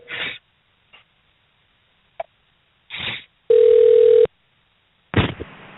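A telephone call rings out over a radio broadcast line: scattered clicks and bursts of noise, then one sustained electronic tone before a brief rustle, with no voice answering.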